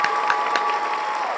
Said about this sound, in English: Clap it out, y'all.